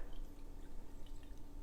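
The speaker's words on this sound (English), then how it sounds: "So all in all, I probably have about a cup of water that I've added to the rice and the tomato juice" Water is poured from a can into a pot of rice and tomato juice, a close, continuous, burbling trickle throughout.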